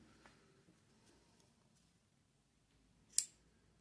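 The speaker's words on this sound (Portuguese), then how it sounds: "Quando eu passo pelo último, eu já posso cortar o meu fio" Scissors snipping crochet yarn, one sharp, close click near the end after a near-silent stretch with faint handling ticks.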